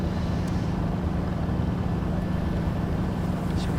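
Ship engines running at throttle in a ship simulator video game, a steady low droning hum with a constant engine tone under broadband rumble and wash, unchanging and fairly loud, with no speech.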